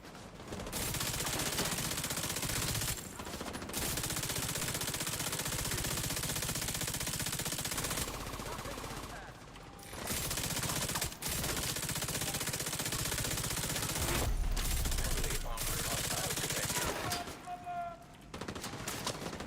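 Sustained video game gunfire, dense automatic bursts rattling almost continuously with a few brief pauses, loud and close.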